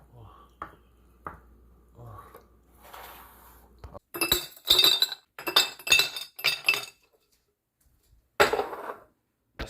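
Glass clinking and tapping while unsweet tea is poured into a big glass for a meal, a run of sharp, bright clinks in quick clusters after a quieter stretch of soft handling noises.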